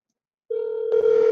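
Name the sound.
telephone calling tone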